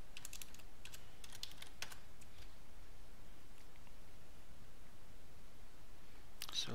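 Light computer keyboard typing comes in scattered clusters of soft keystrokes, fading into quiet background hiss, followed by a brief louder tap at the end.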